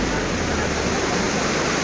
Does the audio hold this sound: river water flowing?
yes